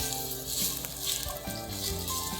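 Aged ginger sizzles in olive oil in a pan, a close, continuous bright crackle and hiss with small popping bursts, heard alone without talk.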